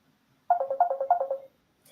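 A phone ringtone sounds for an incoming call: a quick burst of about nine bright, evenly spaced electronic chirps lasting around a second, clear and alone in an otherwise quiet room.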